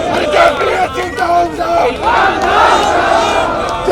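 Thousands of JPSC exam candidates protest outside the JPSC office demanding their results, a loud crowd of massed shouting and chanting voices rising and falling close by.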